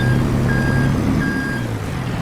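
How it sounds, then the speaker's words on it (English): A vehicle reversing with repeated reversing beeps over a loud, steady engine rumble, ending as the brakes are slammed on. "we're going to reverse, take the straps off and slam on the brakes"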